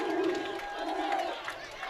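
A Strasburg high school football crowd cheers and roars after a 67-yard touchdown run, a distant, sustained swell of voices with a commentator talking over it.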